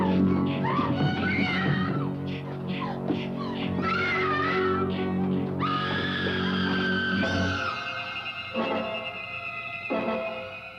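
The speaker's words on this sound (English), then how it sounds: "a woman screaming in abject terror" A woman in a horror film screams in terror, one long, loud, sustained wavering cry that keeps rising and breaking, with no other voices over it.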